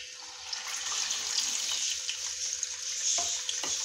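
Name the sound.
chickpeas frying in hot oil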